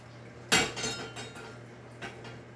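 In a kitchen, a bowl is rinsed and a spoon holder moved, giving a sharp ceramic clatter, a few lighter knocks and a final clink over faint running background.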